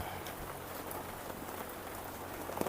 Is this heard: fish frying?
no